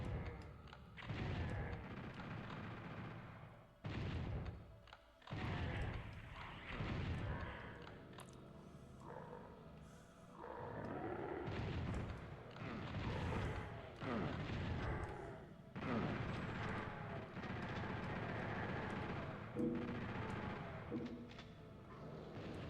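Heavy gunfire from a powerful weapon in Doom II on PlayStation: dense, booming blasts and explosions in rapid succession, loud and continuous with brief gaps, with a faint voice in the background.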